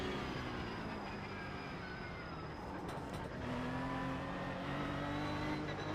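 Several Porsche Cup race cars in iRacing drone together at high revs, a steady dense engine roar with whining pitch lines that shift as cars close up around one another.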